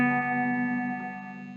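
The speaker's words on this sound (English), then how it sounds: "Like if I pluck this G string, it'll start to hum." A plucked banjo G string, fitted with a guitar pickup and played through a Fender Deluxe Reverb amp, rings into a sustained electric hum with rich overtones that slowly fades over about a second and a half.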